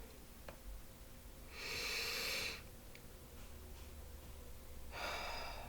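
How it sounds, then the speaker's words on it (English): A deep breath is drawn audibly close to the microphone, followed a few seconds later by a second breath, with quiet room tone between them. "let's get started by taking a deep breath"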